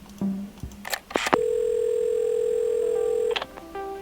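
A telephone dial tone in the video game Assemble With Care, preceded by clicks and handling of the receiver, then a steady loud continuous tone held for about two seconds before cutting to shorter tones.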